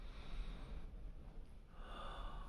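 A single deliberate breath, taken slowly and audibly up close, with a soft rushing hiss and no talking.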